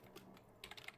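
Quiet, close typing of JavaScript code on a computer keyboard, a quick irregular run of soft key clicks.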